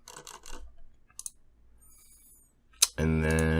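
A few sharp computer mouse clicks sound in quiet surroundings while saving in Shopify, close and crisp, before a voice begins speaking.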